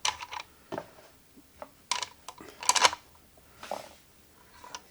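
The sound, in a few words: screwing in tuning pegs on a fretless guitar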